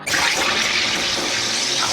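A Drinkmate carbonator forcing gas into bourbon whiskey, a loud continuous hissing rush that starts abruptly and holds steady for about two seconds.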